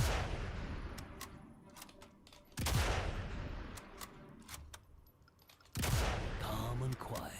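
Two loud, isolated sniper rifle shots boom in Sniper Elite: Resistance, each a sharp crack followed by a long decaying rumble, separated by a few seconds of quieter ambience with faint clicks.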